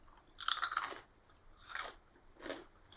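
Kettle chips crunch loudly up close in three separate bites, a long crackling chew first followed by two shorter crunches with quiet gaps between them.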